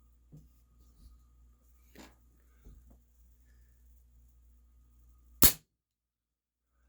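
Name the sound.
Remington 1875 CO2 air pistol firing a shot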